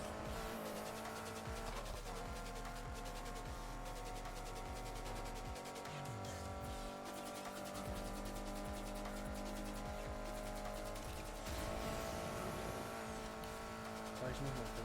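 A car drifts in Need for Speed Heat, its engine droning steadily with tire squeal and skidding running throughout, loud and sustained, while a voice talks over it.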